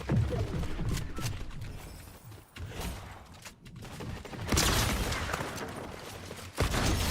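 Gunfire in Fortnite, including hunting rifle shots, comes as loud booming bursts and rapid volleys with heavy low rumble, dense at the start and again near the end.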